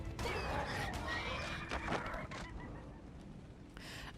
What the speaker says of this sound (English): We've got terror birds now.